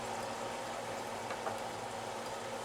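Food braises in a Stargazer cast iron skillet covered by a Wagner aluminum Dutch oven lid, giving a steady, soft bubbling and sizzling hiss that carries on evenly throughout.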